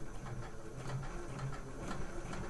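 A sewing machine stitching back over an existing seam on trousers, a steady fast mechanical whirr with a soft rhythmic pulse running continuously and fairly quietly throughout.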